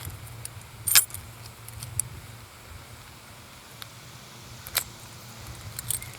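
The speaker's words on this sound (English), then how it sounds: "let's put the key in it" A key jangles and clicks as it goes into the ignition switch of a 2019 Mercury ProXS 115 outboard with a sticking key, with a sharp metallic rattle near the start, a brief click later, and a low steady hum beneath.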